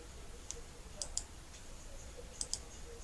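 Faint, sharp computer mouse clicks in a quiet room, a single click followed by a few paired clicks spaced irregularly.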